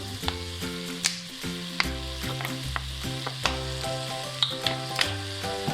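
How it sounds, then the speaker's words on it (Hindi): A spoon stirs a chicken stuffing mixture with chili sauce and soy sauce in a pan, giving soft scraping taps over a sizzling background, partly masked by louder melodic background music. "अब इसको अच्छे तरीके से करेंगे मिक्स"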